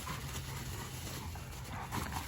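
Dogo Argentino dogs, a male and a new female, play together with scuffling paws, light whimpers and pants against a broad steady background wash.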